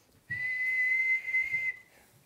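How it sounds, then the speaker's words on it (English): A single person whistles one steady, sustained note alone for about a second and a half, briefly dipping then resuming before stopping, with the pitch nudged upward; fairly loud and close with no other sound around it. "It's pretty hard for me to control the amplitude of my whistle, but I can control the pitch."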